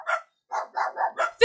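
A pet dog named Finley barks indoors, five or six sharp, loud barks in quick succession after a short opening yap, close by with no talk over them.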